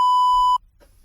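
A single loud, steady censor bleep, a pure electronic tone held for about half a second to cover a swear word, cutting off abruptly into near silence.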